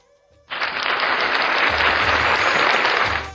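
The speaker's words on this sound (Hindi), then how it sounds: "जयपुर के लिए एक बार तालियां तो होनी चाहिए ना।" A burst of crowd applause at a convention in Jaipur begins abruptly after a brief pause and continues steadily, loud and dense, before starting to fade at the end.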